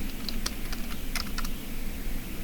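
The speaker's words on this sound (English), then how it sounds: "And again, I typed the wrong password" Rapid typing on a computer keyboard while entering a password, a steady run of close, crisp key clicks with a few louder taps standing out over a constant background hum.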